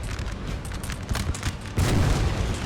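Artillery and musket fire in Napoleon: Total War roll across the battlefield as a string of dull booms and crackling shots, the loudest blast landing partway through and rumbling on afterward.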